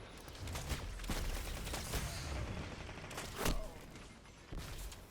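Rapid bursts of gunfire and sharp blasts from grenades crack through a video game battle over a zone capture, several loud impacts spread unevenly across a few seconds with no talking.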